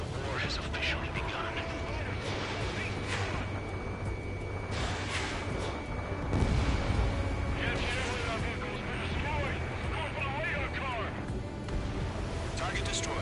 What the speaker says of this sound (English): Fire the AA!